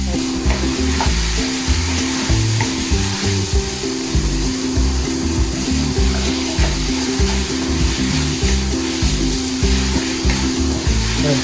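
Ginger sautés in a hot pan while pinakbet is being cooked, giving a loud, steady sizzle with stirring scrapes throughout and no talking.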